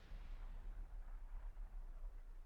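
Heavy artillery shells explode in Supreme Commander 2, a factory crumbling under direct hits, as a dense continuous low rumble of overlapping booms with no clear gaps.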